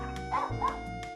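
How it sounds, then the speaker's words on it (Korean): A rat terrier barks excitedly at a visitor, a few quick yips and woofs close by over a steady low household hum, with no talking. "외부인이 오자 짖느라 정신없는 녀석"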